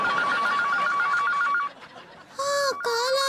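A telephone rings for an incoming call in a home, a warbling electronic ring that pauses briefly and then starts again, loud and close.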